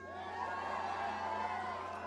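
Thousands of people at a New York rally against Donald Trump send up a broad, sustained roar of cheering and shouting, a dense steady crowd wash heard for a couple of seconds without a clear single voice.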